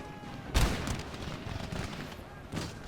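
Musket volleys crack out in Empire: Total War battle, a sharp loud report followed by rolling, scattered distant shots and a second volley near the end.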